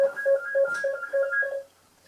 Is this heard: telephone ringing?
yes